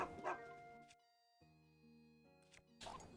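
A dog in Tears of the Kingdom barks in short bursts at the start and end, separated by quieter musical game tones.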